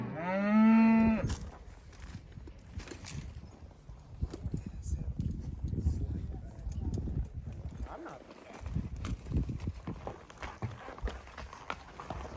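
Cows herded up a trail on horseback make a single loud moo near the start, followed by steady hoof clip-clop and shuffling of livestock moving along, with voices talking over the herd.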